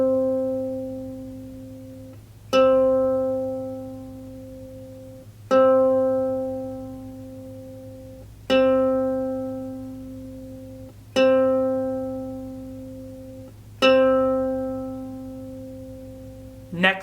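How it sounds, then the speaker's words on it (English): A ukulele's C string is plucked six times in tune, each pluck ringing out clearly and decaying slowly before the next, spaced roughly three seconds apart at moderate volume with no talking. "Now repeat the process with your next string. This one is the C string. Go ahead and make it sound like mine."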